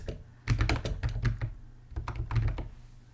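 Text being typed on a computer keyboard in two quick bursts of close, crisp key clicks, with a brief pause between them and no voices.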